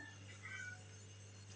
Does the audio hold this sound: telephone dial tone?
no